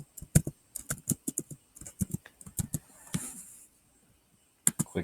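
Keys clatter on a computer keyboard as a layer search is typed, in quick irregular bursts of close, crisp clicks, with a short rustling pause and then a final few taps.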